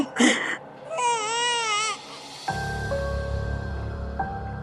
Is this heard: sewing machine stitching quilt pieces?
no